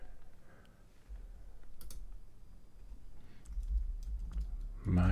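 Typing on a computer keyboard, a scattering of soft keystroke clicks under steady low room hum, with a louder thump near the end.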